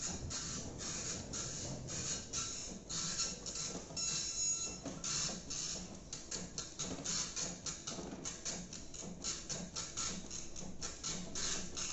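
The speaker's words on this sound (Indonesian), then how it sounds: "Kita print, arahkan ke Epson, kemudian print." An Epson printer runs a document through with continuous mechanical whirring and rapid rhythmic clacking of the print head shuttling back and forth, close and steady throughout, with no talking.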